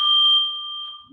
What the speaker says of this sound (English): Timer 1 finished.